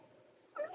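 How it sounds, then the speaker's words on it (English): A pet cat named Pumpkin meows once near the end, short and fairly close, following a stretch of quiet outdoor garden background. "There's our kitty."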